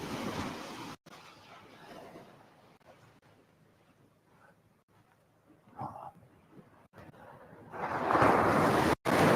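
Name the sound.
ocean waves on a remote Australian beach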